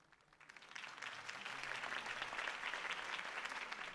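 A crowd bursts into applause at a Harvey Dent campaign rally in Batman: The Telltale Series, the clapping swelling quickly from a few hands into a dense, sustained ovation that holds steady at moderate volume.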